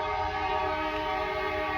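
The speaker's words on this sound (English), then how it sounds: "that is a train" A train sounds steadily close by at night near a hotel in Aberdeen, a continuous rumbling drone with sustained tonal horn-like harmonics holding through the whole stretch, loud and unbroken with no talk.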